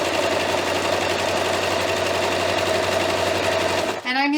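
A sewing machine runs in one steady, continuous burst while stitching the hood seam of a maroon-lined costume robe at about a 3/8-inch allowance, then stops abruptly near the end as a voice begins speaking.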